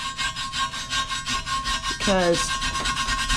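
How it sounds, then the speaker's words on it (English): A brass brush scrubs an old 1920s forge blower casting with steady rubbing, rasping strokes, close and continuous, and a single word is spoken partway through. "I'm going to get this brass brush here, and I'm going to start kind of just scrubbing it"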